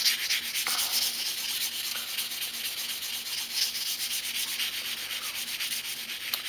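Steady abrasive rubbing of a knife edge being ground from a straight V grind toward a convex edge, a continuous close scratchy sanding sound with slight rhythmic strokes and no voices.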